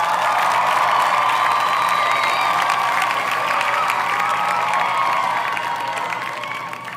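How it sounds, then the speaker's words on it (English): A crowd-cheering sound effect of an excited audience, with cheers, whoops and clapping in a dense wash that stays loud and then fades toward the end. "Insert crowd noise here."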